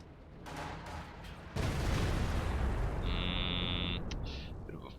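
Howitzer fire in a Company of Heroes 2 match: a heavy B4 artillery boom lands mid-clip as a sustained loud low rumble over ongoing battle noise, with a brief higher tone following.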